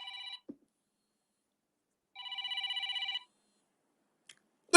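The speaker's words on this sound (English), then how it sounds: "and then I get a phone call." An incoming-call telephone ring sounds in two electronic bursts, a short one then a longer warbling one about a second long, clear and alone against silence.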